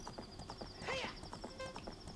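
Horse hooves clip-clopping at a steady gait in Zelda: Ocarina of Time on the Nintendo 64, with a brief whinny-like flourish partway through, close and moderately loud over game music.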